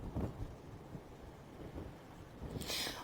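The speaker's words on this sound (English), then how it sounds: "the wind is still blowing out here" Strong wind gusting and buffeting a microphone outdoors during a storm, with broadband rumble throughout and a harsher rushing blast near the end, no voices.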